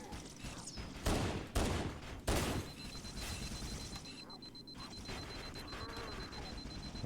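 Gunfire in Halo: Combat Evolved Anniversary on PC: a series of sharp, loud shots in quick bursts followed by softer continuing combat noise and a faint electronic tone.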